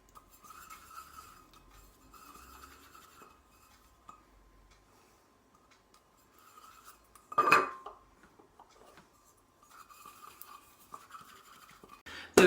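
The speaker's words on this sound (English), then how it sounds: "So just a fingerful of butter in each tin, grease it all the way around." Fingers rubbing butter around the insides of metal pudding tins, soft rhythmic scraping and smearing in repeated passes, with a sharper clink of a tin being moved partway through and another at the end.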